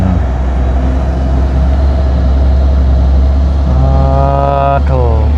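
Steady, loud road traffic rumble from vans, container trucks and ten-wheel trailer rigs, a continuous close engine drone with a passing vehicle's rising whine near the end.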